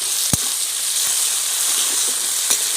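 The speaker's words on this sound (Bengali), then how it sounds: "এরকম নেড়ে দিয়ে দিচ্ছি। এবার টমেটোর মধ্যে দিয়ে দিচ্ছি নুন।" Tomatoes frying with salt in a pan, a steady bright sizzle held close and loud, with a couple of sharp scraping knocks from stirring.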